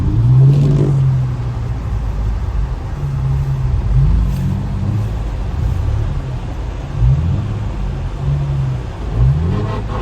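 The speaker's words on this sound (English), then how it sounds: "Bro, we are drifting so slow right now." A manual Infiniti G35 coupe drifting through a roundabout in a snowstorm: a loud, steady engine drone from inside the car, rising and falling in pitch several times as the revs change, with no talk.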